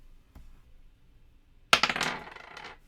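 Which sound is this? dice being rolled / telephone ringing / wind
dice being rolled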